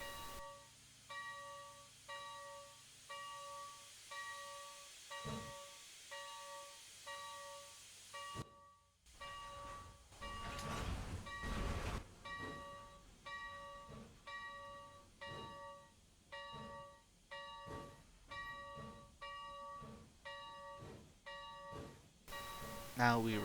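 A steam train reversing on rails in a train simulator game set at the Illinois Railway Museum, with steady rhythmic chuffing pulses, a repeating ringing bell tone, and a brief burst of hissing midway.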